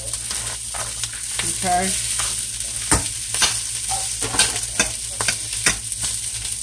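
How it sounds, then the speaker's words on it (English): White rice stir-fried with leftovers in a pan, a steady close sizzle broken by repeated scraping and clattering strokes of a utensil, with a brief spoken word at the start. "I'm going to go ahead and just put that white rice in there"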